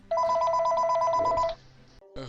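Telephone ringing, a close electronic trilling ring lasting about a second and a half, followed by a short electronic tone after a brief gap.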